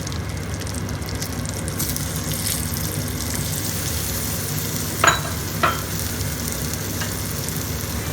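A whole boiled egg fries in a turmeric and salt masala for Kerala style egg roast, a steady close sizzle with two brief sharper scraping stirs near the end and no talk.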